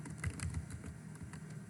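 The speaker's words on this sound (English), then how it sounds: "I will be typing her first name" Soft, quick keystrokes on a computer keyboard while a first name is entered, a short irregular burst of clicks at low volume with no voices.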